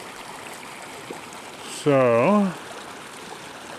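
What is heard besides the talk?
small creek running by a campsite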